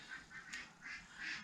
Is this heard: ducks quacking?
yes